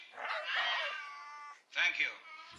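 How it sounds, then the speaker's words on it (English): A cat meows in a cage close by, two drawn-out, wavering cries separated by a brief pause, loud and clear with no talking over them. "I'm assuming that there is a cat in the cage to my right"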